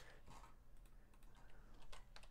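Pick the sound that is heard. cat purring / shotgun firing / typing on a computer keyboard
typing on a computer keyboard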